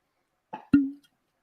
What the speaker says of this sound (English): Not much of a cork popper there